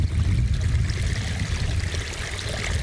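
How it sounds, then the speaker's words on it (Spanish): Spring water at the Jerónimos convent streams steadily from a stone-lined source, a continuous close rushing and trickling without pause. "Manantial fuente de aquí del convento de los Jerónimos"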